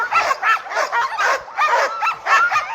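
Alaskan husky sled dogs at a race near the Knik Bar by Settler's Bay bark and yip in a steady, overlapping chorus, loud and close, continuing without pause.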